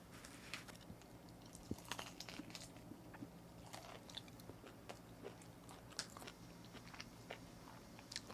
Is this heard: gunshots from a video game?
no